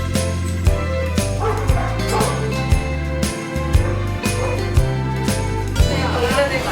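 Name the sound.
dogs barking in a dog cafe in Korea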